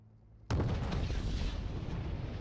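Tank main gun firing in Wargame: Red Dragon, a single sharp loud boom with a sudden onset, followed by a sustained roaring rumble and decay.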